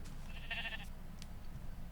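Sheep bleating in Animal Crossing: New Horizons, one short wavering bleat near the middle over a low steady game background hum, with faint soft clicks after.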